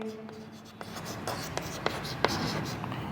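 Writing on a board during a biology lesson: a few soft scratchy strokes and light taps spaced irregularly, heard under a teacher's speech.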